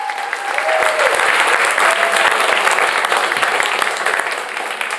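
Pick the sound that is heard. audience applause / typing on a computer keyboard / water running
audience applause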